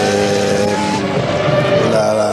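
Formula 1 cars with V10 engines scream past at the 2001 Brazilian Grand Prix, a loud, high, sustained engine wail with shifting pitch, close and unbroken.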